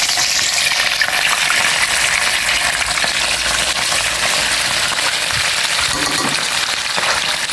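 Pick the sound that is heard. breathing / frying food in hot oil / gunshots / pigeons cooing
frying food in hot oil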